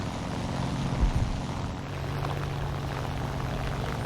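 Propeller engine of a Ta 152 C fighter plane in a video game, a steady loud drone with a low throbbing hum, briefly swelling near the start and then holding even throughout with no talk.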